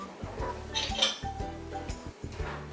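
A spoon clinks and scrapes against small terracotta pots while filling them with soil, a series of close, bright, irregular taps and knocks with short pauses between.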